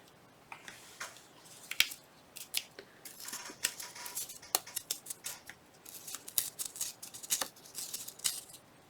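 Paper being torn by hand for a Christmas journal pocket, a series of short crisp rips and crinkles, close and fairly quiet, coming in irregular bursts.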